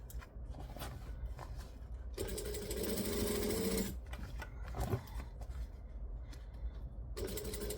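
A sewing machine stitches through thick vinyl with a heavy, labouring whir in bursts, stopping and restarting, with a louder stretch in the middle and mechanical clunks between runs.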